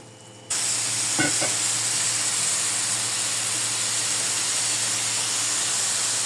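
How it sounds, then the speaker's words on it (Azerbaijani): Onions and chopped parsley greens fry in a pan with a steady, loud sizzle that starts abruptly and holds, briefly broken by a couple of soft stirring clicks. "Baxın qızlar, oje cəfəri qovrulur."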